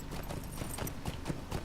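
Horse hooves clip-clop in the game LOTRO, a short run of close, rhythmic hoofbeats over a busy background with no speech.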